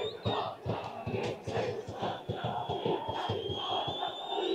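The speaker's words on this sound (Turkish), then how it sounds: "Şu anda tribünlerimiz ayaklandı, tezahüratlarda takıma destek oluyor." Football fans in the stands at a Zap Spor versus 12 Bingöl Spor match chant loudly in support, a dense crowd roar with rhythmic shouted pulses and whistles throughout.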